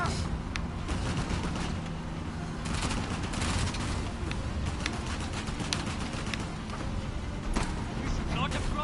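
Dense gunfire rattles continuously in the video game Uncharted: The Lost Legacy, with bursts and shots layered over explosions, music and shouting voices.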